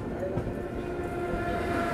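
Siddhabali Jan Shatabdi Express, pulled by a WDP 3 diesel locomotive, running along the line near Bijnor, a steady close rumble and rattle of the carriage filling the whole two seconds.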